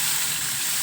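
Broth poured into a pot of pork and fresh tomato soup, a brief, loud, close hissing sizzle with no talk.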